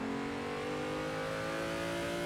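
Engine of a car racing on the Seattle Circuit in Assetto Corsa, a steady loud revving whine holding high revs throughout the short stretch, alone without talk.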